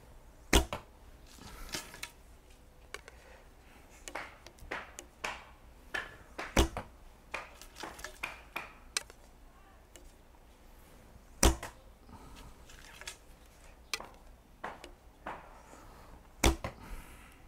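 Arrows loosed from an archery bow, each shot a sharp, loud snap followed by a quick thud, repeating at irregular intervals over a faint background hiss with no talking.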